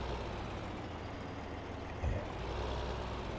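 A farm vehicle pulling a short trailer in Farming Simulator 15 rumbles steadily at a low level, with one brief thump midway through.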